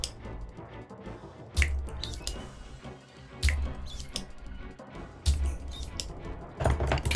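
A solder sucker pulls molten solder from a GameCube controller cable joint, each suction a sharp snapping click with a brief hiss, repeated four times at roughly two-second intervals over faint close handling noises.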